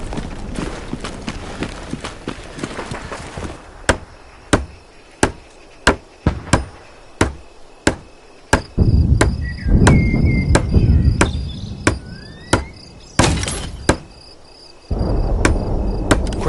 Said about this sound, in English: Use the hammer in your loadout to finish constructing it